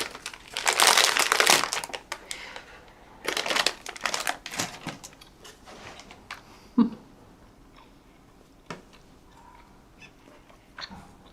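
A candy wrapper is crinkled and torn open up close in loud bursts of crackling plastic, followed by sparser rustles and small clicks, with no talking.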